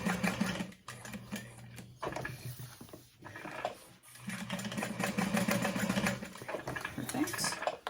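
A sewing machine hums and rattles in uneven runs while stitching slowly around the curved outline of a Gunther bag, pausing briefly, with a person talking over it.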